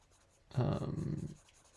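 A pastel pencil strokes across holographic paper, a single short scratchy scrape lasting under a second, close and quiet against a faint background.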